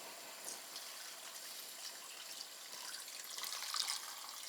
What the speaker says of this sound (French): On va maintenant mouiller à hauteur.